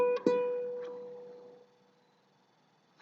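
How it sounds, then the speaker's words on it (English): A single plucked ukulele note on the second fret of the A string rings out near and clear, then decays slowly to quiet with no talking. "your middle finger, on the second fret of the A string."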